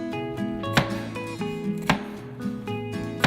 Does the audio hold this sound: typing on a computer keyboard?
no